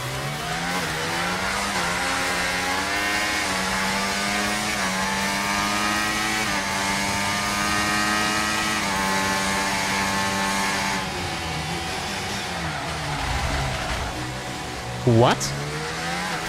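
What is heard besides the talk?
F1 race cars racing in F1 24 video game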